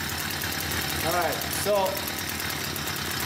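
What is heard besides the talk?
engine running while the carburetor is adjusted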